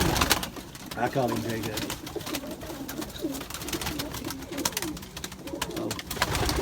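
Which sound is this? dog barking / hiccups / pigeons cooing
pigeons cooing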